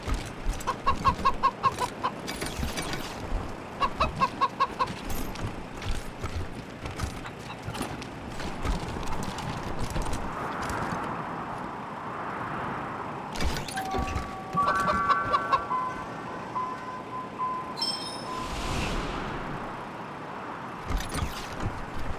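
A chicken clucking in the video game Wasteland 3, repeated clucks and hoof-like clip-clop rhythms over busy game ambience, fairly loud and close.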